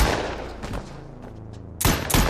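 A burst of gunfire rings out in a tense film scene where a man suddenly shoots a woman, loud sharp shots at the end after a quieter stretch of low rumble.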